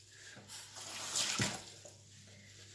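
Water runs from a tap while a face is rinsed, a soft, uneven splashing stream that swells and fades over a couple of seconds, fairly close and quiet.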